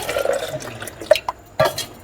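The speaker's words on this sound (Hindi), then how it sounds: "अब इसके अंदर पानी डलेगा तकरीबन 1 गिलास" About a glass of water is poured into a cooking pot for black chana curry, a soft splashing and trickling with a few drips, fairly quiet and close, with no speech.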